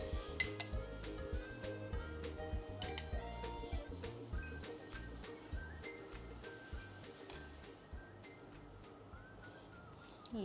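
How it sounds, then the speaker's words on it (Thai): A spoon scoops Thai tea mixture into a glass while making cream cheese topped tea at home, giving light clinks and taps of metal on glass over soft background music. "นี่เห็นไหมให้ดูจะตักตัวสเปซชาไทยนะคะลงในแก้วค่ะ"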